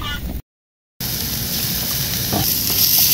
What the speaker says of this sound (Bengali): এখন আমরা বারবিকিউ এর পিসগুলো আমরা এখন পোড়ার জন্য দিয়ে দিচ্ছি।